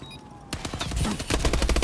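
Rapid automatic gunfire from a Halo match in an MLG Pro League game, a dense burst of loud cracks in quick succession, close and continuous after a short lull, with no speech.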